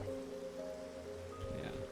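Steady rain patters in Minecraft, a soft, even hiss that runs continuously and faintly beneath quiet background tones with no one speaking.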